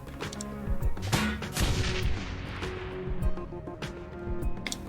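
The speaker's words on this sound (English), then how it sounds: "Yank the cover and start shooting." Gunfire in the Shadowrun: Hong Kong video game, a dense stream of loud shots and booming impacts layered over one another with little pause, under a game score.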